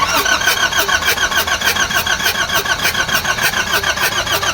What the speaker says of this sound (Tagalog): Okay, engine crank.